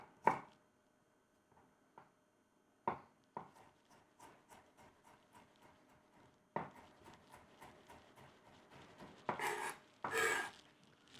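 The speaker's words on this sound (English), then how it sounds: "Got some ginger. Same amount as the garlic. The same. Rough chop." Ginger being rough-chopped with a knife on a board for a vegan glazed tofu dish, sharp wooden knocks in an uneven rhythm, some isolated and others in quick runs, close and fairly quiet with scraping near the end.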